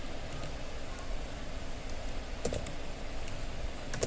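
Computer keyboard typing with shift and enter presses, a few scattered soft key clicks over a quiet room hum, with a sharper cluster of taps near the end.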